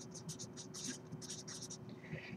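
Pen or marker writing an equation on a board or paper, a run of short scratchy strokes in quick bursts, close and fairly quiet over a low steady hum.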